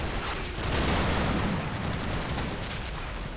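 Bursts of machine-gun fire from two guns crackle continuously in the Normandy battle game Combat Mission, a dense, steady rattle of gunfire at moderate distance with no voices.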